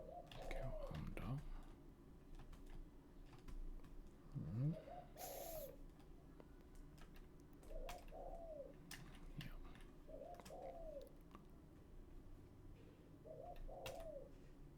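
A pigeon or dove coos outdoors in soft, repeated phrases spaced every few seconds, faint and somewhat distant, while keyboard clicks and a brief spoken word come through nearby.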